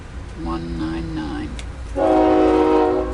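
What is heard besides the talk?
passing train with horn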